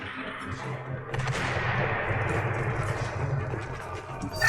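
Steady, dense gunfire from the video game Mass Effect 2 rattles on continuously, with a burst of shots and impacts growing louder at the very end.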